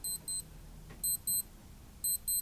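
Casio G-Shock Mudmaster GWG-1000 wristwatch in alarm test mode gives three pairs of short, high electronic beeps, one pair roughly every second, close and clear with no talk.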